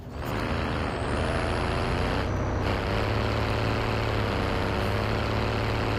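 Cargo truck in a video game driving with a steady, loud engine drone and low rumble, a hiss like an air brake near the start, continuous with no talking.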